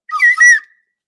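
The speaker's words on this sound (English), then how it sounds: "Didn't hit the field goal whistle." A football field goal whistle sound effect: one short, bright, two-part whistle blast lasting under a second, loud and isolated against silence.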